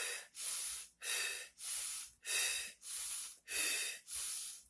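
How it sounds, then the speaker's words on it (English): Slow, deliberate breaths during a calming breathing exercise, each long airy whoosh lasting about half a second and repeating steadily about every second, close and clear with no talk. "Then you do the breathing."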